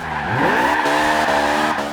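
Honda Civic Type R rally car in Forza Horizon 2 sliding sideways, its tires squealing in a loud, sustained wail that bends upward in pitch over an engine drone, close and alone.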